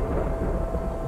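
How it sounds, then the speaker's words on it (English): Thunder rumbles in the video game Terra Nil, a dense low rolling roar that holds steady and heavy for the whole moment, with no talking over it. "So you can hear the thunder."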